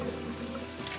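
Running tap water pours steadily over fresh ginseng roots being rinsed in a sink, a continuous close splashing flow with no speech.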